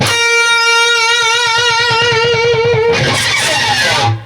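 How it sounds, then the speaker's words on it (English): A sustained distorted electric guitar note on the B string, 11th fret, wavers steadily in pitch from whammy bar vibrato, then breaks into a noisy pick scrape before cutting off. "whammy vibrato"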